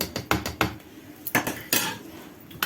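A spoon presses down on lemons packed in oil inside a jar, giving a series of sharp metallic clinks and scrapes, several spaced knocks, fairly close and with no talk.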